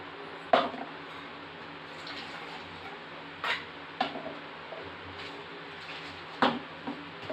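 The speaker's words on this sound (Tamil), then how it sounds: "இதில் சேர்த்திக்கலாம் நம்ம அரைச்ச மசாலாவை." Ground masala goes into a chicken curry pot with a few quiet metal clinks of a spoon against the vessel and soft, wet squelches, all faint and close.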